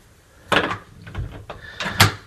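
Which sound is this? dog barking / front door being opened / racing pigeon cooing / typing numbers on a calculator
front door being opened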